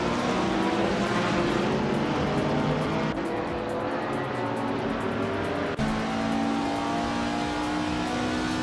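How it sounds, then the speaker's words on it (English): A 1967 Chevrolet Impala race car in a racing video game drives with a loud, steady engine drone throughout, its pitch shifting with gear changes and speed, the sound continuous and close without any talk. "Laircell is driving a 1967 Chevrolet Impala"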